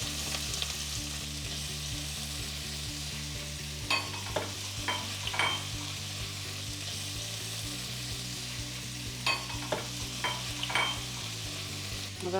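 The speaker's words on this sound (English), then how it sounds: "Garlic's going in." Garlic frying in a pan in a Spanish home kitchen, a constant bright sizzle with occasional stirring scrapes and clicks of a utensil, close and steady with no speech.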